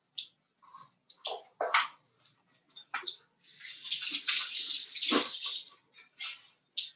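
Water runs from a kitchen sink tap in bursts, a splashing hiss that starts and stops, then flows steadily for a couple of seconds, quiet and close, with no one talking.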